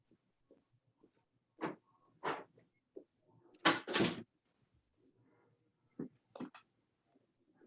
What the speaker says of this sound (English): Let me just close my door so we don't have the sound coming back and forward